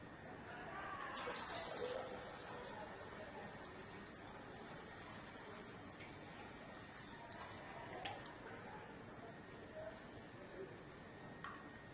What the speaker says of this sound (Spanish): vamos a proceder a llenar el recipiente metálico con agua